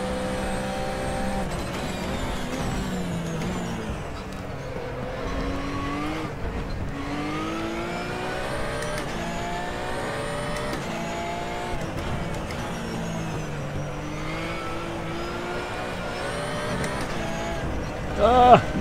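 A Ruf RT12R race car engine drones and shifts pitch steadily around the Nürburgring GP circuit in RaceRoom Racing Experience, rising and falling through gears with a continuous, close, steady roar.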